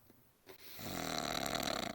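A sleeping man snores, one long rough inhaling rasp building up after a quiet pause, faint and muffled at a distance.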